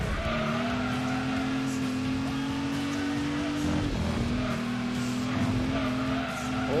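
Tires squealing as a Camaro race car understeers in Gran Turismo 2, with a sustained engine drone throughout and a brief skid near the middle of the run.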